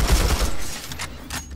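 Rapid bursts of TR light machine gun fire from a video game crackle loudly and steadily, a dense stream of shots close up with no talk.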